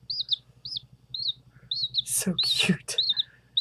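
Baby chicks chirp in quick, high repeated peeps through most of the span, close and fairly clear, with someone briefly speaking over them partway through.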